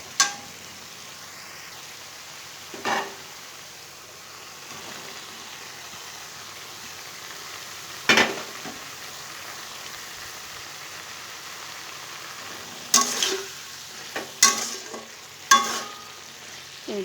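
Eggplant and potato cooking with bathua greens in a little water, a soft steady sizzle and simmer with occasional sharp spoon scrapes and stirring knocks, clustered near the end, no talk.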